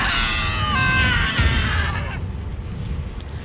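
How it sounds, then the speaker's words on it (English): A woman in the game Seduce Me 2 lets out a long, loud scream lasting about two seconds, then it cuts off and only background noise remains. "Diana's scream echoed through the room"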